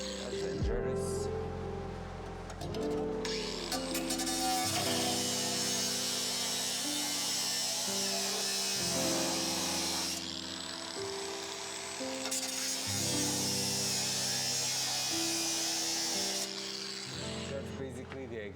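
An angle grinder cuts out a section of a car's passenger-side body panel, making a loud, continuous high whine whose pitch shifts as the disc bites into the metal, running almost without pause.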